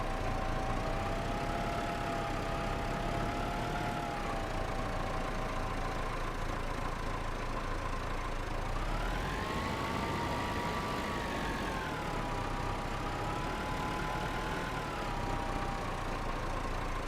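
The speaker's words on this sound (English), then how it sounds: "I'll always drive the old Massey if I get a chance." An old Massey Ferguson tractor idles in the Farming Simulator 25 video game. The engine gives a low, steady, continuous rumble, its pitch rising and settling slightly a couple of times, with no talking.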